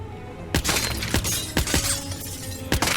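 Glass shattering in the Hitman video game, a sharp crash followed by a few more breaking bursts in quick succession, loud and close, with no talk.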